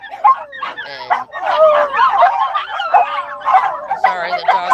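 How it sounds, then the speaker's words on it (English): Several dogs bark, yip and whine in an excited, overlapping, nonstop clamor, loud and close indoors. "sorry, the dogs are barking right now"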